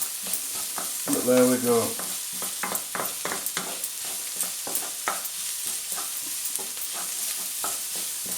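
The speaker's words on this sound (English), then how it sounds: "which is now in, and the garlic, which is in, and fry for a few seconds" Garlic frying in a pan for a vindaloo curry, a steady soft sizzle broken by repeated clicks and scrapes of stirring, with a short louder clatter near the start.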